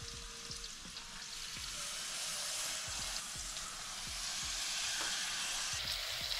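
Walleye fillets sizzle in a hot frying pan at a lakeside catch-and-cook at Center Lake, Iowa, making a steady, close crackling hiss with small spattering pops and no talking.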